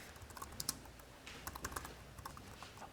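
Quiet, steady typing on a computer keyboard while writing code, a soft run of close key clicks with an irregular rhythm over faint background hiss.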